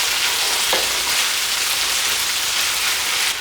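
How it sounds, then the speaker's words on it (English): Lamb chops sizzle in a hot pan after being flipped, a loud, steady, dense crackle like heavy rain, close by with a faint clink partway through and no talking. "after 3 minutes, let's flip the lamb chops around"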